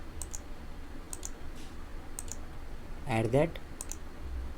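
Mouse clicks during a MySQL installation on a Windows computer, sounding as sharp, quiet single clicks spaced about a second apart, with a brief spoken phrase partway through.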